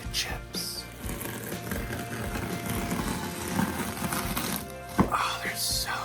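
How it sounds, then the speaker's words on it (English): Tortilla chips crushed under a rolling pin make a steady close crunching and rumbling, with a sharp crack near the end and a voice talking over it. "I'm crushing the chips."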